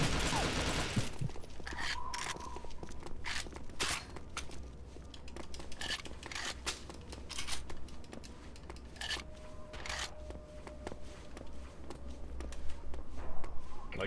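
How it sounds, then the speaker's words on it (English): A submachine gun in an Xbox 360 launch-era shooter, firing in rapid automatic bursts and repeated sharp cracks over a steady low hum, with scattered snaps continuing throughout at moderate loudness. "With the SMG, it's full auto, except when aimed in, at which point it's single shot."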